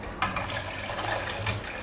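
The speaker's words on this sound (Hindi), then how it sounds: "उसी के अंदर पानी ऐड कर रहे हैं।" Water pours steadily into an unwashed kadai (wok) that was just used for capsicum, giving a continuous close splashing rush for a couple of seconds; no talking.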